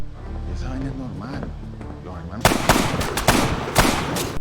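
Gunfire from a cartel gang shooting a man named Tariq: a sudden burst of sharp, loud cracks in quick irregular succession, after a dim murmur of voices and background sound.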